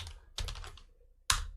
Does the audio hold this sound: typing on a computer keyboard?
yes